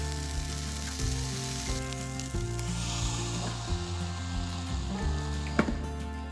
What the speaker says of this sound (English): then heat the waffle iron and lay out our mixture